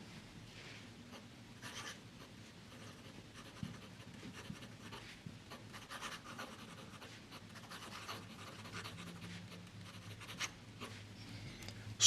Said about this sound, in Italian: allora cominciamo a scrivere